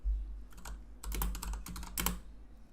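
Rapid typing on a computer keyboard to search for a scene, with close, crisp key clicks in several short bursts and brief pauses between them.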